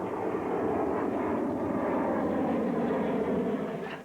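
Steady roar of a fixed-wing airplane flying past, loud and continuous, fading slightly at the end.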